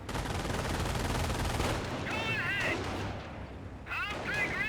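Jeep firing a volley in the World War II strategy game Company of Heroes, with dense continuous gunfire and battle noise, plus whistling shell sounds rising over it twice.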